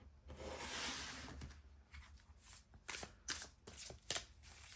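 A deck of oracle cards being shuffled during a tarot reading: a long riffling swish, then a run of separate papery slaps and flicks, close and fairly quiet, with no talking.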